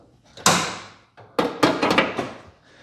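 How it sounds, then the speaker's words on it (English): Hood of a 2019 Subaru Crosstrek being opened: a sharp metallic clunk of the release, a pause, then a cluster of rattling thumps and taps as the hood is lifted and propped, close and fairly loud. "now we're gonna open up the hood"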